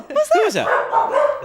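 A dog barks close by in a few sharp, yipping bursts, while a person speaks over and around the barks.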